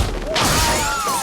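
A sudden loud crash of breaking glass during a Police Story film car stunt, a sharp shattering burst followed by ringing, scattering debris and sustained noise.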